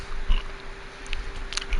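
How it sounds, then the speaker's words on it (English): Close, soft chewing of Mambas fruit chews, with a few moist bites and sticky squishing sounds over a low steady room hum. "chewing on some Mambas"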